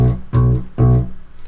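Bass guitar holding a low B on the second fret of the A string, plucked in a steady four-on-the-floor pulse with muted notes; four firm, even beats, close and alone.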